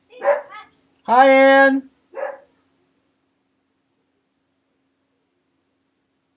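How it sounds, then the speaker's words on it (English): A dog barks in three short bursts, one longer whining, yelping bark between two brief yips, close and loud, with a short spoken greeting mixed in before falling silent. "my dog is freaking out and is screwing up my train of thought"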